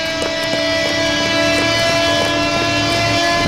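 Number 17 tram rolling through Buenos Aires, a loud steady rumble with sustained tonal whine and rhythmic clicking of wheels over rail joints, continuous and close throughout.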